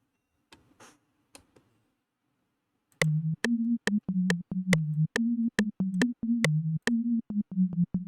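A detuned synth patch from Xfer Serum plays a run of short, evenly spaced staccato notes with a buzzy, slightly wavering tone, loud and alone, after a few faint clicks and a pause.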